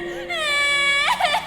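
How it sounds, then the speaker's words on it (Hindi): A woman's drawn-out crying wail rises and sustains, then breaks into short sobbing catches near the end, close and fairly loud in a spooky setting. "उसी रात करीब 2 बजे मोहित की नींद अचानक ही किसी के रोने की आवाज़ से खुल गई।"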